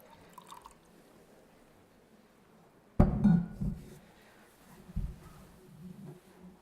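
Drinking water poured into a glass at a speaker's lectern during a graduation ceremony, a sudden clink followed by a short gurgling pour, a second brief splash after a pause, quiet room around it.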